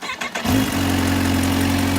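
Kawasaki Ninja SX SE motorcycle engine cranking briefly and catching, then settling into a steady, close, even idle with a firm low hum.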